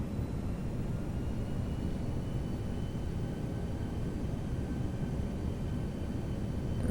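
Airbus A319 airliner on approach in the X-Plane 11 flight simulator, a steady, even engine and wind roar that holds constant throughout with no talking.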